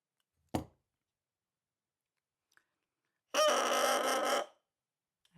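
A handmade bassoon reed, freshly given its first scrape, gives a single buzzy crow lasting about a second, loud and close, after a brief click and silence.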